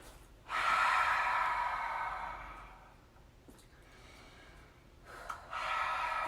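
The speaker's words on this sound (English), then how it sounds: "Cleansing breath." A long, forceful breath during a vinyasa yoga flow rushes out for about two seconds, then a softer pause, with another strong exhale starting near the end; close and breathy, no talking.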